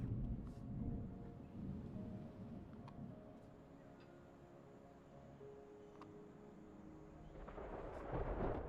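Thunderstorm in the video game Terra Nil: faint, low rolling thunder rumbles continuously under soft rain-like noise, swelling slightly toward the end.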